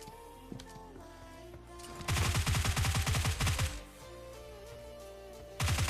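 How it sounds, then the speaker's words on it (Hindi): Gunfire in PUBG Lite, rapid bursts of automatic shots in quick rhythmic succession, loud and close, with a second burst starting at the end over quieter game background. "यहाँ पे मेरे को कुछ गन साउंड्स आते हैं भाई"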